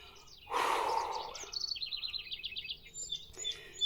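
Birds sing in a quiet garden in July, with a run of bright chirps and trills followed by further short calls, set against a soft background.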